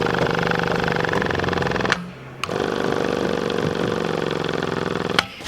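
A car's central locking pump whirring with a steady mechanical buzz, close and fairly loud, cutting out briefly before restarting and running on.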